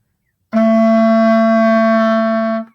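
A low F sharp on saxophone sustained for about two seconds, played alone with a rich, reedy tone and a clean ending.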